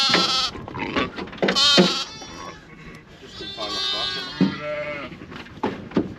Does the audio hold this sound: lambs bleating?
yes